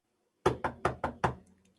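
Five sharp knocks on a door in quick, slightly uneven succession, close and clear, followed by silence, set in a fantasy tabletop role-playing session.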